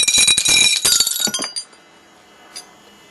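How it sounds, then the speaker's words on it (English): A 4-inch nail shaken hard inside a glass bottle, loud rapid glassy clinks and rattles for about a second and a half, then quiet with one faint clink near the end. "take this 4-inch long nail here, put it in there, and just shake it up real good"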